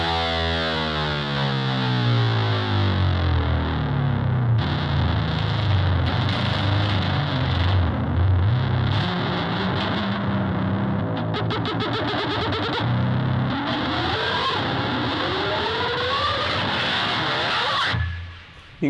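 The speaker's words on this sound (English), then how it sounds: "If I take the low E string, dive down with the tremolo bar," Heavily distorted electric guitar with the low E string dived down on the tremolo bar, a loud sustained rock tone whose pitch sweeps and warbles throughout before cutting off abruptly near the end.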